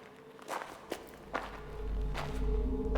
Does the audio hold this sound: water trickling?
no